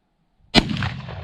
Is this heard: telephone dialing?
no